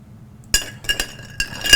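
A cocktail stirred in a glass with a metal spoon, producing a few bright clinks and tinkles at irregular intervals after a quiet start, close and alone.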